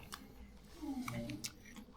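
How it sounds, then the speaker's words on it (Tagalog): Someone chewing pandesal bread filled with ice cream, soft, close, moist mouth sounds over about two seconds with a few faint crunchy clicks, quiet and alone. "Sabang nguya kayo ng pandesal, nasamahan nyo pa ng ice cream."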